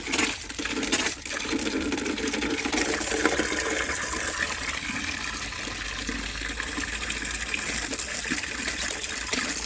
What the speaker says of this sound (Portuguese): Então agora é a hora da gente molhar as manivas, né?